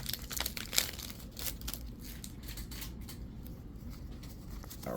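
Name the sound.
tearing open Powerline Ultra trading card packs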